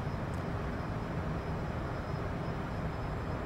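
A Citation CJ4 jet climbing at about 4,000 feet a minute in Microsoft Flight Simulator 2020, a steady broadband engine roar with a faint high whine, constant and unbroken with no talk.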